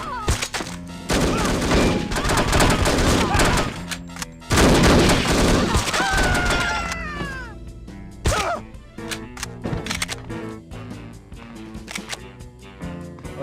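Dense bursts of gunfire rattle in the PC shooter No One Lives Forever, with rapid clustered shots early on and then sparser single cracks and impacts over game sounds.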